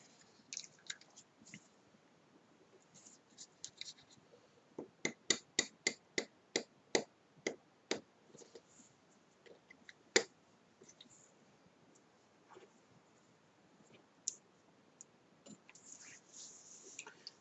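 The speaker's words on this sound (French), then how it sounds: "Moi, je le coupe directement. Mon cutter." A craft knife cuts paper with a quiet run of sharp, evenly spaced clicks and scrapes in the middle, close and faint, surrounded by scattered softer ticks.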